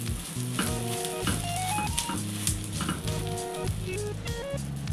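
A wheat dosa sizzles steadily in a little oil in a cast iron pan, with a continuous close frying hiss and occasional scrapes and stirring noises.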